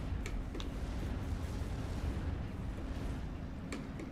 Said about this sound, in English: And here comes the next artillery strike.